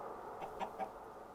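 A Minecraft chicken gives a few soft, short clucks in quick succession, faint and alone.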